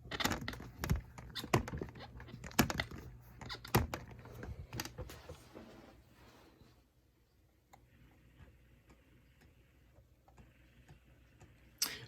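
The restored side-to-side mechanism of an animatronic buck ticks and clicks, with dense irregular clicks early on that thin out into sparse, faint ticks against a quiet background.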